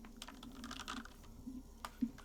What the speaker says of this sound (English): Run your fingers across the keyboard. The keys rattle like teeth.